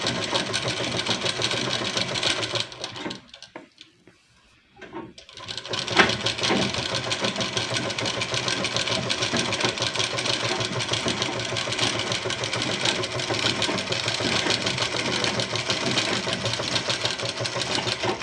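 A sewing machine stitches the folded side cut of a dress, a fast steady whirring rattle that runs almost continuously, dropping out briefly near the start before resuming at full speed.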